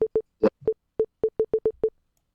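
A telephone call cuts off into a busy-signal pattern: nine or ten short, identical electronic beeps in a quick steady rhythm, loud and close, with one brief rustle between them, then silence.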